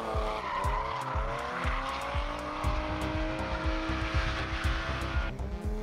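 A drift car slides sideways past cones at a motorsport competition, its engine droning and revving steadily while tires squeal continuously through the slide, loud and close.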